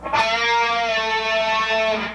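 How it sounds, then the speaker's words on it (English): A single distorted electric guitar note, bent at the second fret of the G string, bends upward and then releases back down, sustaining cleanly for about two seconds. "Go to the second fret on the G string,"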